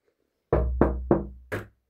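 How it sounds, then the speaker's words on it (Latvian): Four firm knocks on a door, close and evenly spaced in a quick sequence, followed by silence. "man parasti klavē durvīs"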